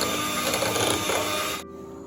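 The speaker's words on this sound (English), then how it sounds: "we have to beat it until it's smooth" An electric beater whirs steadily, beating half a can of condensed milk until smooth, then switches off abruptly near the end, leaving a quiet hum.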